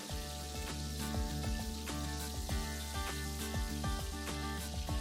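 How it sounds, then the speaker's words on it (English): Aloo chops, potato snack patties, frying in hot oil: a steady dense sizzle and crackle with continuous bubbling that stays fairly loud and even throughout. "The chops have been fried from all the sides beautifully."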